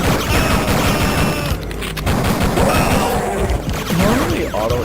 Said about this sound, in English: Getting sniped while you're trying to see.